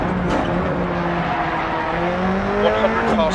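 A rally car in the video game DiRT Rally drives hard, its engine climbing in pitch while tires scrabble and skid. A voice runs faintly underneath, and the sound is loud and continuous throughout.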